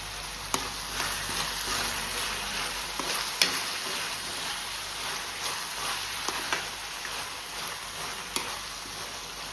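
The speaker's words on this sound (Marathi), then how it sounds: "आतां घालता आले लसुणाची पेस्ट. आनी बरी तळशीता आतां." Garlic paste sizzles steadily in a hot pan while being cooked for Goan clam sukha, with occasional stirring clicks and scrapes over a constant hiss.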